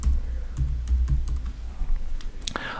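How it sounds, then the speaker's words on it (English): Keys tapped on a computer keyboard while typing a place name into a search field, a quick run of light clicks over a low, steady background hum. "I can come down here to the location input and type Sydney to find it"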